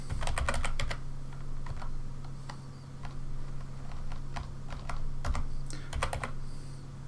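Someone types a COUNTIF formula into a spreadsheet on a computer keyboard, producing close, quick clusters of crisp keystrokes with short pauses between bursts. A low steady hum runs underneath, and nobody speaks.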